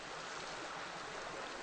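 Bell Creek at Starr Ranch in California flows with a soft, continuous hiss of running water, faint and even across the short stretch.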